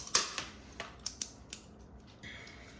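Blade edge scraping and snipping through textured alligator-pattern wallpaper held against a stone surface, a string of six or seven sharp, crisp clicks spaced irregularly, close and fairly quiet, with a faint higher scrape near the end.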